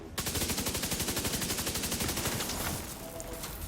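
Rapid automatic gunfire from a weapon loaded with shock rounds in the shooter game The Division 2, a loud sustained burst of evenly spaced shots for about three seconds before easing slightly, with no talking.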